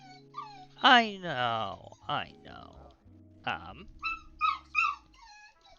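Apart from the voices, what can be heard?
dog whimpering and howling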